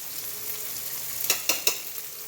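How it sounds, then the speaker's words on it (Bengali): Hilsa fish fries in a pan with garlic, onion, oil and turmeric, a steady hiss with a few sharp spatters and stirring clatters near the end. "এই যে এখানে ইলিশ মাছ কষিয়ে রাখছি"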